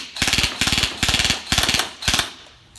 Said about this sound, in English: That's a steady stream of BBs.